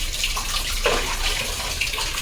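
Warm water poured over a child during a bath, a continuous close splashing gush that runs throughout, moderately loud, with a brief heavier splash near the middle.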